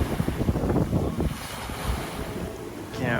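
Waves wash against the hull and a steady wind rushes past the microphone as a sailboat sails at night off Mexico, loud and continuous with gusty bursts of spray.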